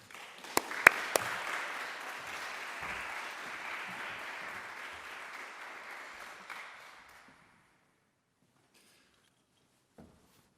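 A university audience in Toronto applauds to welcome Professor Trevor Young, a steady roomful of clapping with a few close sharp claps at the start, fading out after about seven seconds into near silence.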